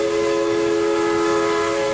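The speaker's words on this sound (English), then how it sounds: "You hear the ghost train approaching." A ghost train approaching as a tabletop RPG sound effect, a steady, sustained whistle-like tone with strong held pitches over a constant rumbling bed, loud and unbroken throughout.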